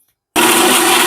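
After a brief silence, a mixer grinder switches on and grinds tamarind chutney with salt, its loud steady whirring motor whine running unbroken and close until the end.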